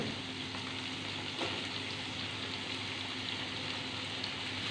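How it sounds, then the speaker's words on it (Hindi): Chicken and vegetables, including carrots and bell pepper, frying in a pan for white sauce pasta, a steady close sizzle with faint crackles throughout. "मज़ीद इसको भूनना है।"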